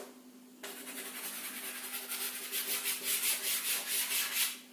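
Sand is scraped and piled by hand into a small hill, a steady gritty rubbing and scratching that starts abruptly and swells into rhythmic close-up strokes before fading out.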